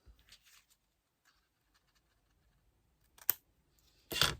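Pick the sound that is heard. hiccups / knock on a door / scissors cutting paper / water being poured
scissors cutting paper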